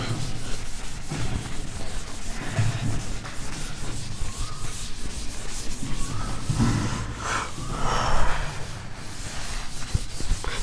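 Writing being rubbed out on a board during a physics lecture: steady scrubbing strokes close by, repeated rhythmic rubbing with no voice over it.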